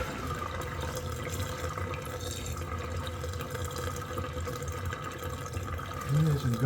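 Water runs steadily from a tap while locomotive parts are washed, a constant splashing hiss with a louder gush near the end, and a voice speaks over it.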